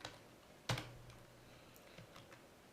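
A few keystrokes on a computer keyboard while coding in the NetBeans IDE, with one sharp, fairly loud click followed by fainter, scattered taps, close by, with no talking.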